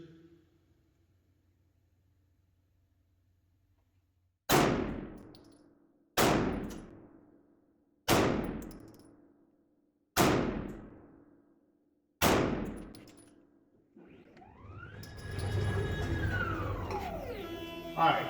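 Five pistol shots from a SIG 365 carry gun crack out one at a time, each about two seconds apart with a ringing tail. A rustling, shifting noise follows the last round.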